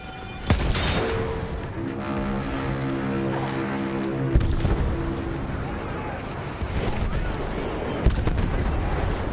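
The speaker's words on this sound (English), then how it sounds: "The anti-tank rifle." Anti-tank rifle firing in Battlefield 1, several heavy booming shots spaced a few seconds apart amid battlefield noise, with a tonal engine drone and voices underneath.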